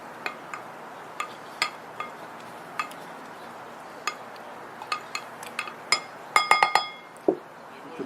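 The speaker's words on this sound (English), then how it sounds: "You want to gently put the muddler over the peaches, not too heavy" A muddler gently pressing peaches in a glass while making a Storyville cocktail gives a series of light, sharp glassy clinks, spaced at first and then clustering rapidly near the end, close and clear with no talk.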